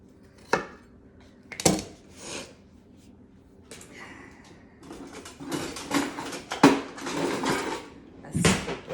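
A utensil scrapes and clanks against a pot while root vegetables for a veggie soup are scooped out, several separate metallic knocks and scrapes with shuffling kitchen noise between them.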